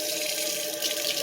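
Water running steadily from a tap while a household water heater is tested, a continuous close hiss of flowing water with no talk.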